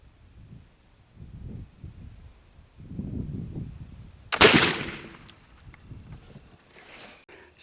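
A single black powder rifle shot cracks out loud and close, followed by a long, rolling decay; low rustling and handling sounds come before it, and faint noises trail after.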